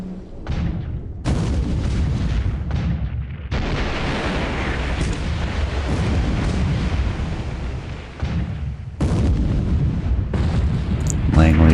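Heavy naval gunfire and shell impacts in the World War II naval strategy game War Plan Orange: loud, sustained booming salvos with rumbling, dense bursts that overlap one another, cut by a few brief lulls.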